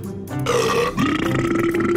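A long, loud cartoon Smurf burp rolls out in a single sustained belch with shifting pitch, filling the whole moment alone.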